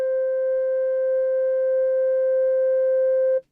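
A sampled C note from a sampler plays as one steady, pure electronic tone with a few faint overtones, held evenly for over three seconds and cutting off abruptly, with no talking.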